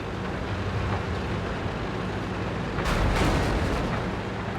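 Tank cannon shots in World of Tanks, a tier 6 Sherman with a 105mm gun firing at a Ferdinand, heard as a continuous rumbling wash of distant battle with a heavier booming burst near the end.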